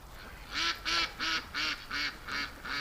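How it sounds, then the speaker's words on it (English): Ducks by a lake give seven rhythmic, fairly loud quacks in steady succession, evenly spaced with short gaps, no talking. "More and more ducks keep going down to the lake."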